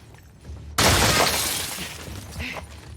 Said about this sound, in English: Alright, she broke the glass.